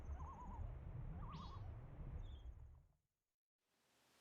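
Wavering, hooting bird calls and a short rising chirp sound from the video game Majora's Mask over a low rumbling ambient background, fairly faint and distant, then cutting to silence before a quiet hiss resumes.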